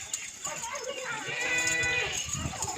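A herd of about forty goats bleating, several overlapping wavering calls close by, with a person talking over them.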